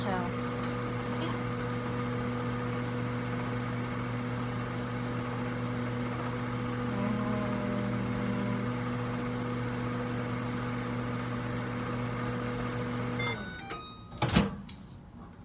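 A microwave oven cooking pasta gives a steady low electrical hum for a long stretch, then stops with a clunk and a click.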